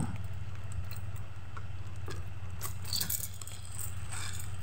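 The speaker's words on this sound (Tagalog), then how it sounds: "Mahiwagang pang open susi." A ring of keys jingles and clinks near the microphone as one key is used to cut open a package, with light scraping and metallic ticks over a quiet background hum.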